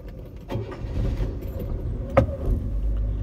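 A 1966 Chevrolet Malibu, driven for the first time in 25 years, fires back up after stalling and settles into a steady low, rumbling idle, with one sharp clunk partway through and no voices.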